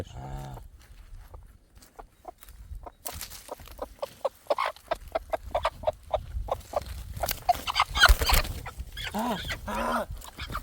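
Chickens clucking in a farmyard with other livestock nearby, a run of short repeated clucks and calls rising in density, with brief human voices mixed in.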